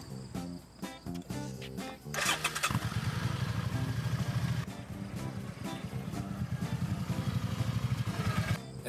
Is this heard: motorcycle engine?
yes